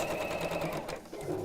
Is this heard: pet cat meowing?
no